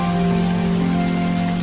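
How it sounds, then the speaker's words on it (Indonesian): Heavy rain pours down in a steady, dense hiss with no breaks, over a constant low tonal hum underneath. "saat itu hujan begitu deras"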